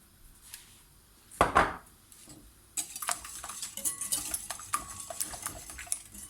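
Yogurt cake batter with sugar and a pinch of salt being stirred in a bowl, a soft scraping and knocking of the utensil against the bowl that runs on unevenly after an earlier clatter, with no talk.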